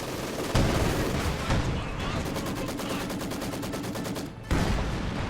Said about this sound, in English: There's a nice barrage.